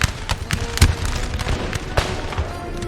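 Musket volleys crackle in a Napoleon Total War American Civil War mod battle, a rapid scatter of distant and nearer pops and booms, with dense, overlapping shots and no voices.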